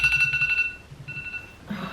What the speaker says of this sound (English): Hang on, my alarm's just gone off.